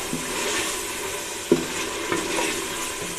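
Mutton fries in ghee with masala in a pot, a steady soft sizzle with a few stirring knocks and scrapes, and no voices.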